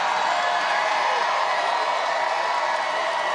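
A crowd at a Trump rally roars and cheers in a steady, dense wash of sound that fills the whole moment, with no single voice standing out.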